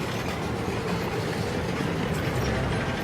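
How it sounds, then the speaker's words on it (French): Heavy WWII American tanks rolling toward the Remagen bridge, a steady dense low rumble with faint rhythmic clatter of tracks, continuous and fairly loud, no voices. "Les chars roulent vers le pont."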